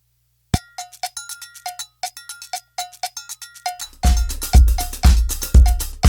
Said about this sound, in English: Maybe needs a bit more cowbell, wouldn't you say?